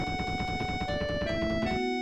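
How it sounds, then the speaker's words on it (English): Barret running down stairs at high speed in Final Fantasy VII, a rapid, evenly pulsing patter of game sound effect steps over a tonal music note, stopping abruptly near the end. "I know that noise is meant to be Barrett, like, you know, running down the stairs at high speed"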